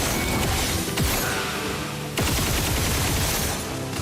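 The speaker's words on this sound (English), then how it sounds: "Machine gun." Machine gun fire in the online game Black Desert Online, a dense continuous barrage of rapid shots and booms layered with game effects, loud and unbroken throughout.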